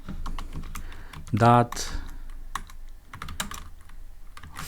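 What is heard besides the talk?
typing on a computer keyboard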